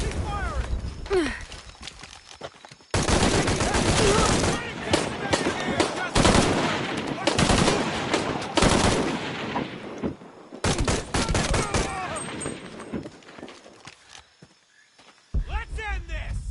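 Bursts of automatic gunfire and shots in Shadow of the Tomb Raider, loud and sustained in several long volleys separated by short lulls, with voices shouting over the action.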